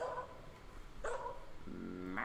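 A dog barks in a Sherlock Holmes video game, a few short yips and a whimpering bark spread over a couple of seconds, fairly faint against a quiet background.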